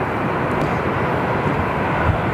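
A Qantas Boeing 787 heavy jet on final approach at Sydney Airport roars loudly and steadily, a broad unbroken engine rumble close overhead with no voices.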